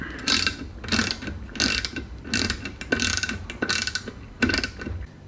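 Nuts tightened onto washers with a ratchet while assembling a diesel heater: repeated bursts of rapid ratcheting clicks, about six in a steady rhythm, close and clear with no talking.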